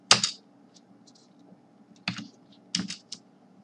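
Keystrokes on a computer keyboard come in a few short, quiet bursts of clicks separated by pauses, close up in a quiet room.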